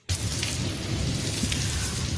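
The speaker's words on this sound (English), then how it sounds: "It's a rainy day in Jersey City" Rain falls steadily on a rainy day in Jersey City, a dense, loud hiss that starts abruptly and holds evenly, with a low rumble underneath that suggests distant thunder.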